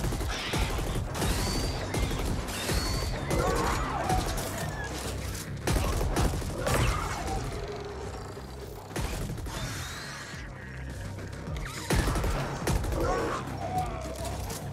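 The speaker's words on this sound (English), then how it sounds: "I like how the gun sound changes as you start to run out of ammo" Rapid bursts of gunfire in the video game Ascent, with loud volleys broken by short pauses and mechanical clatter as the weapon's sound shifts while the ammo runs low.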